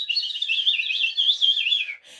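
A bird chirps in a single warbling, high-pitched trill lasting about two seconds, clear and close, followed by a short faint note.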